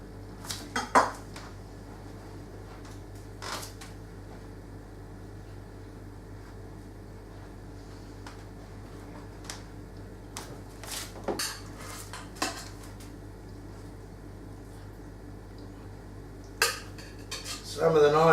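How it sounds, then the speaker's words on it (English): A knife carves cooked corned beef on a board, with quiet scraping and a few sharp clinks of cutlery and plates scattered through a long, mostly hushed stretch, ending in a louder clatter. "Just going to carve it up now."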